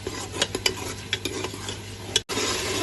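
Masala for fish gravy being stirred and fried in a pan, with steady sizzling under repeated scraping and clinking strokes of a spoon against metal, close and continuous, broken by a brief dropout near the end.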